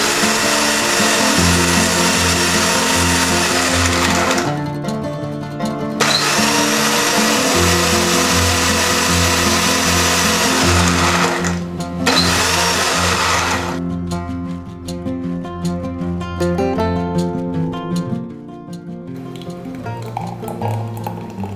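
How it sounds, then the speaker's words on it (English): Electric blender whirring loudly up close as it purees mango lassi with ice cubes, a steady high motor roar with rattling ice, paused twice for a moment and then easing into a smoother, slightly lower whine. "Now blend until everything is well combined and you get a smooth texture."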